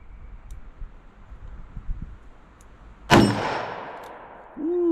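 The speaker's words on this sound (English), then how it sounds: "Going to shoot at this steel down at 15 yards" A single sharp gunshot from a .327 Federal Magnum revolver loaded with American Eagle rounds, fired at a steel target 15 yards away, followed by a ringing clang of the steel that decays slowly amid quiet outdoor ambience.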